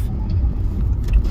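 A car drives close behind on the road, its low engine and tire rumble steady and near, with no other sounds standing out.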